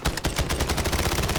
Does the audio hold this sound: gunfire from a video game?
yes